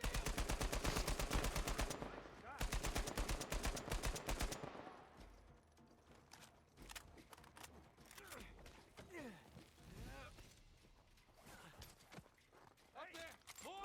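An Uncharted 4 video game firefight with a sniper opens with rapid, loud automatic gunfire bursts, then thins into scattered single shots and whizzing impacts, with shouting voices over the action.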